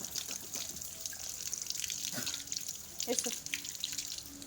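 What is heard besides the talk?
rinsing mouth and gargling with warm water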